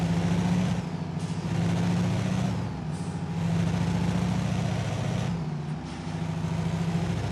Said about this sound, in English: You guys are gonna have to tell me what you think of the engine.